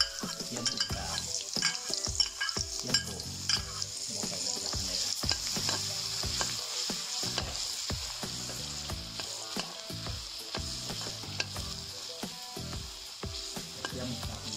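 Garlic fries in hot oil in a pan, a continuous close sizzle broken by frequent scraping and tapping from a stirring utensil, with no speech.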